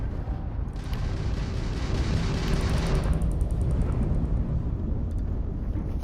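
Heavy weapons fire from a Crimson Fleet pirate ship during space combat in Starfield, a sustained loud rumbling barrage of booms that swells and holds over several seconds without speech.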